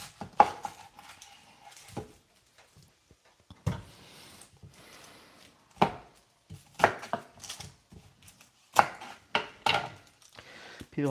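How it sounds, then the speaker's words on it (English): A knife slices through a large onion on a cutting board in a home kitchen, with irregular sharp chops and thuds, some in quick clusters and others spaced out, close and clear with no talk. "we're going to slice this big ass onion"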